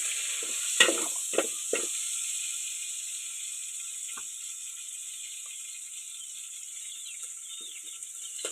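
Chicken pieces sizzle steadily in a little oil while browning for sinigang na manok, a constant soft frying hiss with a few clinks of a utensil early on.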